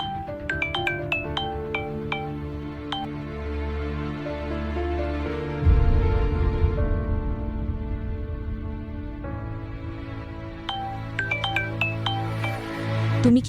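A phone rings with a chiming melodic ringtone that repeats in bursts, pauses through a low droning stretch, then resumes, heard clearly in a domestic drama scene.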